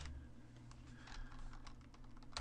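Fingers tap a project name on a computer keyboard, a quick run of soft, close keystrokes with a steady hum underneath and no talking.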